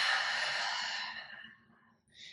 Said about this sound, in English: Take one last deep breath.